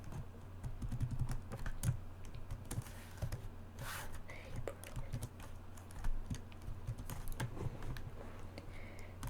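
Rapid, uneven clatter of keys on a computer keyboard, close and moderately loud, with a steady low hum underneath and a voice talking briefly at times.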